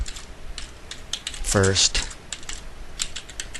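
Light typing on a computer keyboard, with soft scattered key clicks running throughout and a brief spoken word partway through.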